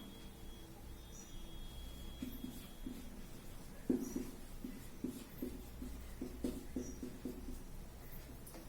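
Pen writing notes on paper, a run of faint, close scratching strokes and small taps in an uneven rhythm, quiet throughout with no speech.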